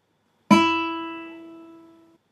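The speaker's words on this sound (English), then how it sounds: "this same pitch, and I play it on the guitar" A single plucked guitar E note at 330 Hz rings out bright and clear, then slowly decays over under two seconds, with no voices.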